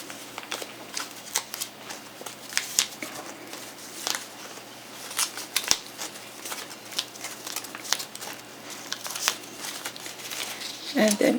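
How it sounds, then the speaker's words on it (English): Light rustling and small ticking clicks as pins are pulled from cut quilt fabric for a Hawaiian quilt, a near, irregular patter of soft handling sounds throughout. "Let's take all our pins off."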